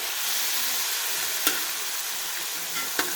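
Masala-coated chicken liver (kaleji) sizzles on a hot tawa as it is stirred, a steady close hiss of frying broken by two sharp scraping clacks of the spatula, with no talk.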